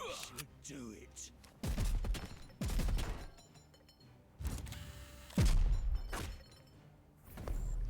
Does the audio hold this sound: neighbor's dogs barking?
no